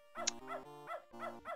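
Dog in the retro point-and-click game Beneath a Steel Sky giving a series of short, tonal synthesized barks and yips in a bouncy rhythm, clean and quiet with nothing else around.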